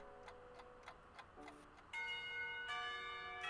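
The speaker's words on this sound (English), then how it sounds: "The bell to signal the beginning of lunch rings out." A school bell rings out to mark the start of lunch in a visual novel game, ringing tones swelling over faint ticking, moderately quiet and with no voices.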